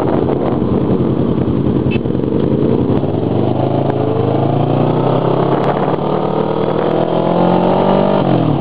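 A motorcycle engine revs and climbs through gears while riding on Taipei streets, a loud close rising whine with steady wind rush and no talk.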